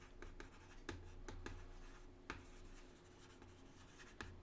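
Pen or pencil scratches across paper in short strokes and taps, quiet and close in a still room, with no talking.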